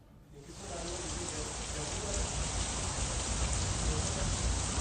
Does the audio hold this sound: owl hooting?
no